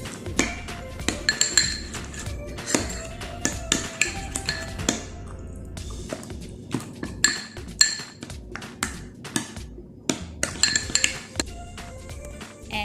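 Spoon clinking and scraping against a bowl while shawarma sauce is stirred together with lemon juice, a steady run of close, bright metallic taps and chinks with brief pauses.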